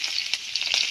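Black cumin, green chilli and bay leaf sizzle in hot oil in a pan, a bright, steady crackling hiss with light stirring scrapes, close and continuous.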